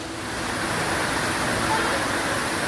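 Floodwater surges through city streets in Jodhpur in a steady, loud rushing wash with no clear breaks.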